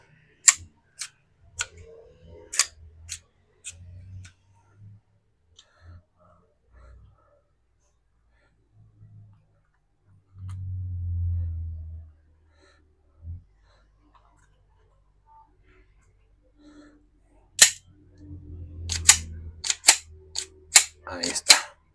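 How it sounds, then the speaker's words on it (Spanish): Sharp metallic clicks and clacks of a 1922 Star .38 ACP pistol being handled and its slide racked, in scattered bursts at the start and a rapid cluster near the end, with a low thud in the middle and no talking. "Vamos a lubricar todas sus partes y ahorita les damos una ligera cerrojeada"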